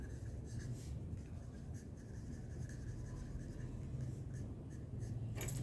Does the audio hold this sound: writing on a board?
yes